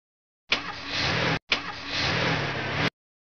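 A taxi cab engine roars in two sustained bursts of about a second each, separated by a brief cut, loud and close with a steady gritty drone.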